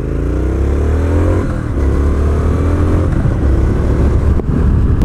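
A 2020 Triumph Street Scrambler ridden at speed, its engine note loud and steady with rising revs through the gears and continuous wind rush, close to the microphone throughout.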